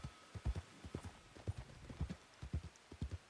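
Horse hooves clip-clop in a steady, uneven trot in a western roleplay game, moderately close and alone with no talk over them.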